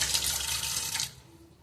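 Water runs steadily and fairly close into a small pot of rice for about a second, then stops and leaves a faint hum.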